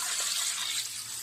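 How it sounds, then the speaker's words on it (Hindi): Water pours steadily into a pot of nihari in a home kitchen, a brief continuous splashing gush at moderate volume with no voices. "अब साथ ही हम इसमें पानी ऐड करेंगे।"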